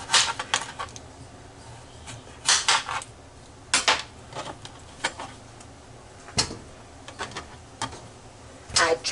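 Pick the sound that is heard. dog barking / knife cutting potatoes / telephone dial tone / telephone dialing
knife cutting potatoes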